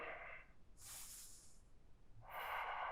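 Slow, audible breaths drawn in and let out during a yoga hip-opener stretch, quiet and close, with a long exhale followed by another inhale and no talking.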